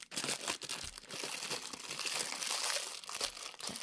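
Plastic wrapping around a yarn pack crinkles and crackles continuously as it is handled up close, with dense, irregular rustling bursts throughout.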